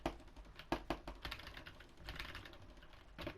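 Rapid mouse and keyboard clicks while building in a game, with several crisp taps in quick, uneven bursts and small pauses between them, close and fairly quiet, with no voice.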